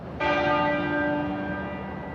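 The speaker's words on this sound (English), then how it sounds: "At the place where they were married in 1947, Westminster Abbey, the tenor bell started to toll at 6 o'clock this evening." The tenor bell at Westminster Abbey gives one deep toll that strikes abruptly and hums on with a long, slowly fading ring.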